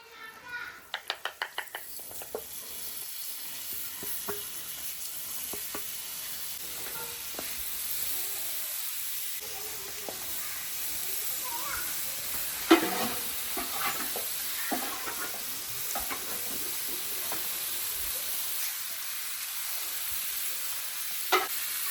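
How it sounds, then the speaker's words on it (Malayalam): Chicken fries on an oiled stone griddle, giving a steady sizzle and hiss with occasional stirring clatter and scraping, while voices talk over it throughout. "നമുക്കിത് കല്ലിലിട്ട് നല്ലപോലെ ചുട്ട് മൊരിച്ചെടുക്കണം."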